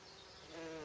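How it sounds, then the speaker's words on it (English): A small bee buzzes close by among garden poppies, a steady droning hum that rises slightly in pitch and loudness over a brief moment, with no voices. "Look at the little bee"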